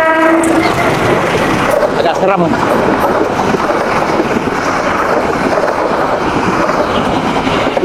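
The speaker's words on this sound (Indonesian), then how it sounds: "selalu aja ada kereta api yang lewat" A train rolls past on railway tracks beside a narrow trash-choked waterway, a loud close rumble and clatter that fills the whole stretch, opening with a horn blast; a person speaks briefly over it.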